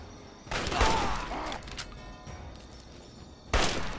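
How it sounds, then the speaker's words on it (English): A hunting rifle in Fallout: Tale of Two Wastelands fires two loud, sharp shots about three seconds apart, each with a ringing tail, while a brute mutant fight goes on in the background. "Time to pull out the old hunting rifle."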